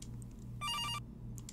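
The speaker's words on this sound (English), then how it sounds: "Ooh, the phone's ringing." A telephone rings inside the game From Next Door with one short electronic burst, clear and steady, over a low constant hum of background music.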